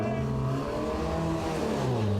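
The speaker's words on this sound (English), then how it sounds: "As Speller fires up the 340R and rejoins the circuit" Lotus 340R race car engine roaring steadily at Snetterton circuit as it fires up and rejoins the track, a continuous loud, close drone with a slight tire squeal.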